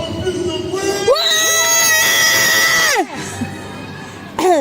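Festival crowd at an outdoor event in La Louvière cheering, screaming and shouting in loud surging bursts, with children's high-pitched yells rising to a peak, dropping away, then swelling again at the end.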